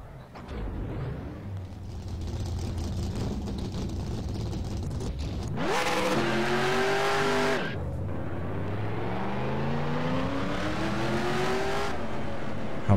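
Race car engines in the NR2003 racing game fire up and rev hard, rising pitch sweeps climbing twice over a steady engine drone, loud and continuous with no voices.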